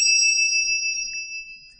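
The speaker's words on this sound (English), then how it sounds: "The handbell does make a note" A handbell tuned to the note E, a classroom instrument, rings once with a bright, sustained metallic tone that hangs and slowly fades, heard alone and close.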